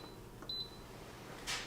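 An older Instant Pot pressure cooker gives a short, clear electronic beep as a button is pressed, then a brief faint chirp follows, all quiet against a low hum.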